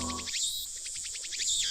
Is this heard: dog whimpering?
no